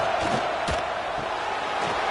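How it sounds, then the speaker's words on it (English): Stadium crowd roar from a college football video game, EA CFB 26, a steady dense wash of cheering noise with a brief louder swell, no distinct voices standing out. "This crowd knows when to bring it."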